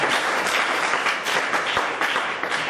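A church congregation applauding, a dense, continuous wash of clapping from many hands filling the room, loud and sustained throughout.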